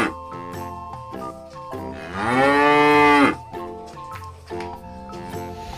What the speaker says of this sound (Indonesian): ini ada sapi teman-teman